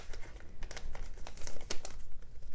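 Paper crinkling and crackling in short, close bursts as it is folded into an origami frog, with quick handling rustles and no speech.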